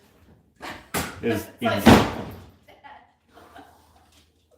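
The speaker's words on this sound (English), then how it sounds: "I just closed it, but it just slammed open anyways" A kitchen cabinet door is shut and then slams back open, giving a few hard thumps and a louder bang close by, mixed with a person talking and chuckling.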